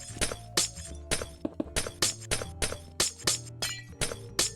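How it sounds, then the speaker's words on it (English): Glass blocks in the Minecraft video game shatter one after another in a rapid, fairly regular series of about a dozen crisp breaking crashes, loud and close, with no talking. "I'm going to go in and break the glass where I just put it"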